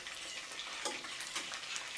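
Chicken for sweet and sour chicken sizzles as it is stir-fried in a pan, a continuous close hiss with small stirring clatters throughout and no talk.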